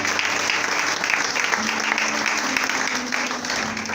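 A church congregation applauds steadily and loudly throughout, a dense wash of clapping from many hands with faint voices mixed in.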